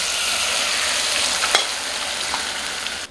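Rice flour batter sizzles and fries in a hot kadhai over a medium flame, a steady, dense crackle that runs throughout, with a few soft scrapes as it is stirred continuously.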